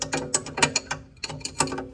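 A small adjusting tool turning the spring seat nut on a BC Racing coilover of a Ford Falcon BA/BF, giving two quick runs of sharp ratcheting metal clicks, close and moderately quiet, with no talk.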